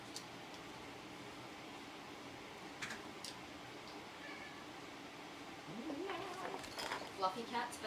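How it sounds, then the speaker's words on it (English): A cat meows a few times, rising and falling, close by in a room where a fan or air conditioner hums steadily underneath, with the calls bunched toward the end. "Fluffy cat's back."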